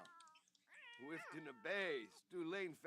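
Several cat meows from The Sims 4 life simulation game, rising and falling in pitch, with one short early cry followed by three long, loud, drawn-out calls close up.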